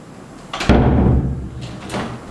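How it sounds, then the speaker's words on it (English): A door is pushed open with a solid thump and a rattling, scraping swing, followed by a softer knock as it settles, close and clear. "we need to modify the type of motion where we need to push the door instead of pulling it to open it"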